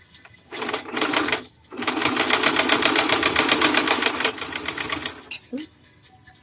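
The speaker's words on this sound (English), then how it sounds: "we're gonna go ahead and do that stitch going around the side, going around the whole side" A sewing machine stitches around the side of a cropped adaptive cardigan, running loud and close in fast, steady bursts with a brief pause between runs, then trailing off into quieter handling sounds.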